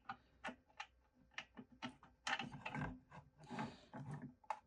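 A screw being worked into the threaded case of a 12V DIY battery kit, its hand-cut threads a little rough, gives a string of close, quiet mechanical ticks and ratcheting clicks that grow busier and louder halfway through.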